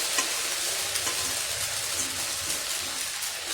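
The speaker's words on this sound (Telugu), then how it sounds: "ఇప్పుడు మనం ముందుగా బాయిల్ చేసి పెట్టుకున్న నూడిల్స్ని అందులోకి యాడ్ చేసుకోవాలి" Boiled noodles tossed and stirred in a hot pan over a high flame for Chinese-style chicken noodles, giving a steady broadband sizzle with soft scraping and clattering from the stirring throughout, no voices.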